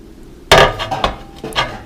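A broken piece of oven door glass is handled and set down, giving a sharp clinking knock followed by a few lighter glassy taps and scrapes, close and distinct.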